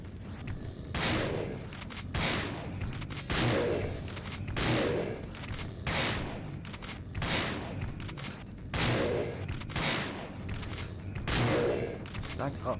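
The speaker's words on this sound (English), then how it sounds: "Now his brain's out, so now we just shotgun it." Shotgun blasts in the video game Resident Evil: Dead Aim, about ten heavy booming shots fired at a steady, roughly one-second pace, each with a short decaying tail, loud and close.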